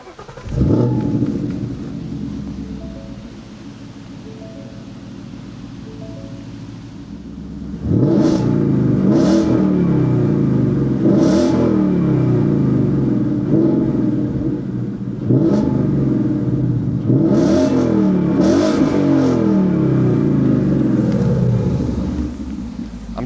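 A warm V8 Ford Mustang GT with a Borla exhaust revving up close, a deep idle burble broken by several loud, sharp throttle blips that rise and fall in quick succession, with no talk.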